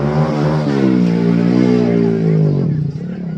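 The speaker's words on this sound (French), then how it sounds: "il y a une moto qui passe" A motorcycle passing by on a street in Greece, its engine whining and droning close and loud before fading away, under someone talking.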